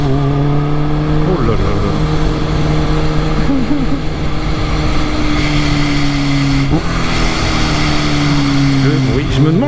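Kawasaki H2 280 hp supercharged motorcycle engine revving and accelerating loudly, with rising and falling pitch sweeps through gear changes, heard continuously up close while a man exclaims over it.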